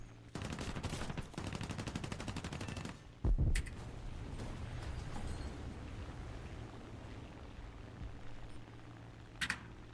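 Rapid bursts of automatic gunfire from aircraft and ground vehicles in War Thunder, a dense rattling volley for the first few seconds, then a sharp blast followed by a steady engine rumble with a late crack.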